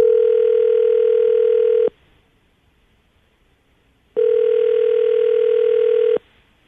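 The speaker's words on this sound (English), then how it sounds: "I'm going to call her right now." Two long steady telephone tones while a call is being placed, each lasting about two seconds, separated by a silent gap, clear and close with no talking.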